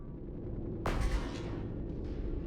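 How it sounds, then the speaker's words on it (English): Missiles fire in the space game Astrox Imperium, a single sharp boom-like launch burst that decays into a rumbling roar over a steady low drone, with no voice. "Look at all those missiles going down there"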